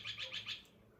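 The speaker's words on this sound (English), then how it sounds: "if you can see behind me, we have the king parrots" King parrots give four quick, bright chirps in a rapid run, fairly faint and slightly distant, then fall quiet.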